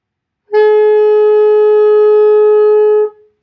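A single sustained alto saxophone F note held steadily for about two and a half seconds, clear and full, then released into silence.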